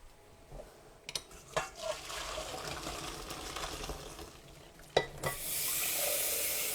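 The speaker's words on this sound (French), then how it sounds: "je suis en train d'égoutter mes nouilles et les passer un bon coup à l'eau froide" Cooked noodles for jjajangmyeon being drained and rinsed under cold running water: a faint, steady stream and splashing, with a few clattering knocks and a louder gush of water near the end.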